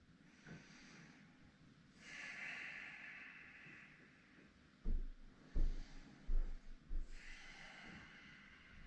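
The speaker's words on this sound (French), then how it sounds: "Une dernière respiration ici." Slow, deep breaths during a vinyasa yoga shoulder-opening backbend, soft airy inhales and exhales recurring quietly, with a few louder breathy snorts and thumps toward the end.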